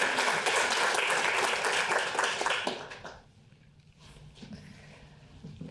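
Audience applause welcoming a guest speaker to a university lecture on the criminal mind, dense and sustained clapping for about three seconds before fading into quieter scattered claps and room noise.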